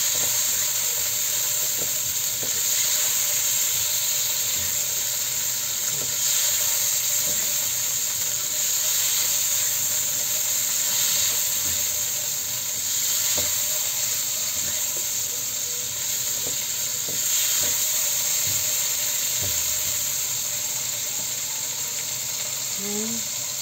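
Small shrimp sizzle in a hot pan, with a steady loud hiss and crackle that stays constant throughout and carries faint occasional clinks of a utensil.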